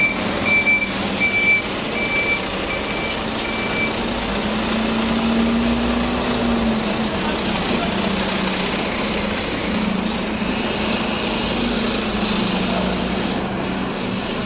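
A large bus engine rumbles steadily and close for the whole stretch, with a faint, regular series of reversing beeps sounding over it early on amid street noise.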